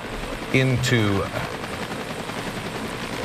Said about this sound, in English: is County Fire chopper right there, that Huey helicopter